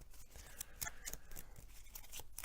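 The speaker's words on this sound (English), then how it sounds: "So I'm going to shuffle my deck." A deck of Mage Knight game cards is shuffled close up on a table, giving a quick run of crisp, rhythmic riffling snaps with no talking.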